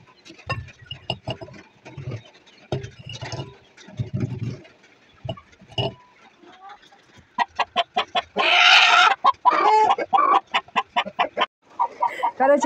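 Chickens cluck and squawk in a farmyard coop at egg-collecting time, first in scattered soft bursts, then in a louder burst of rapid, repeated clucking and cackling close by.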